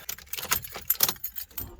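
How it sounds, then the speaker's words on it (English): A bunch of keys jangles and clinks close by in several quick bursts as it is stuffed into a pocket, with no speech. "I always stick my keys in my pocket when I do my belt up."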